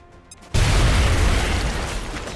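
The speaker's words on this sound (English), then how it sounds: "So, let's go for a grenade first." A grenade explodes in XCOM Long War, one sudden loud boom that breaks over a quiet lead-in and rolls into a sustained, roaring debris wash that slowly fades.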